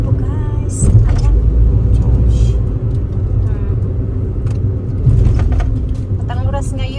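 Cars pulling into the parking area of a fishing park in Shimonoseki before a women's fishing contest, a steady low engine rumble close by while people talk over it.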